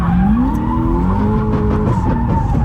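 A drifting car slides sideways around a parking lot, its tires skidding and squealing loudly and continuously over a rising and falling engine drone, close by and with no voices.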